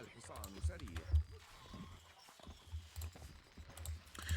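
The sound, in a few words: horses of horse archers in video game Stronghold Crusader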